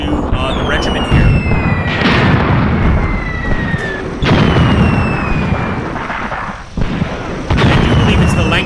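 Repeated booming blasts from tanks in a large WW2 desert battle in North Africa within a video game, heavy explosions and gunfire layered under a constant loud rumble, with high whistling streaks between the bursts.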